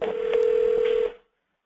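Steady electronic telephone tone, loud and close, holding for about a second with faint clicks before cutting off into silence.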